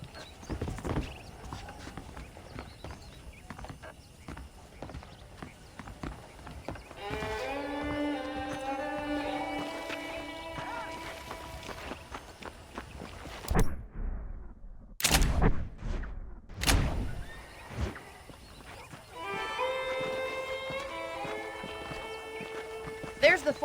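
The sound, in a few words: horse hoofbeats while riding, Red Dead Redemption video game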